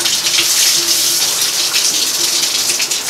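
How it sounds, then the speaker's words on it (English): Water rushes steadily through an Ecosmart Eco 11 electric tankless water heater as the valve is opened, a close, even hiss that holds constant for a few seconds with no other sounds. "Get the water flowing"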